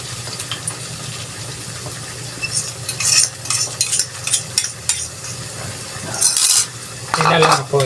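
Egg and carrots fry in a pan while a utensil stirs and scrapes repeatedly, bursts of clatter and scraping over a steady low sizzle, close and fairly loud.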